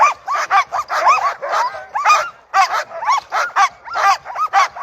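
Alaskan husky sled dogs bark and yip in rapid, overlapping bursts near a race start, a steady excited chorus with a few whimpers and no pauses.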